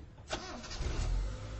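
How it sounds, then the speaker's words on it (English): A car engine cranks and catches as the ignition key is turned, a short starter burst followed by the engine settling into a low rumble, close and alone. "first, turn the key in the ignition"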